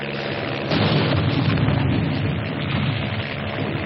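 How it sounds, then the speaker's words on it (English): Artillery fire in a wartime battle scene, a dense, loud rumble of booming explosions blending into a continuous muffled roar with a heavier blast near the start, no voices. "Piper Cup's calling the shots for artillery."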